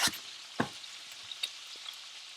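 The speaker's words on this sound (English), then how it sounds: "So my gumbo is cooking and, you know, doing what it's got to do." Gumbo cooking in a pot gives off a steady soft sizzle and bubbling hiss, broken by a couple of sharp stirring clicks, close and fairly quiet, with no voices.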